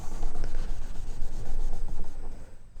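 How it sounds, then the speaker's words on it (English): Steady, close rubbing on a guitar fretboard as oil is worked into the wood, a continuous dry scrubbing texture with slight rhythmic strokes and no voices. "just keep rubbing until you get a nice sheen on there"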